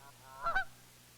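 A goose gives a single short, nasal honk, faint and somewhat distant over a low hum, with nothing else around it.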